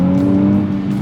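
A 2023 Nissan Z taking a corner, its engine holding a loud, steady near tone with a slight dip toward the end of the short stretch, no voice over it.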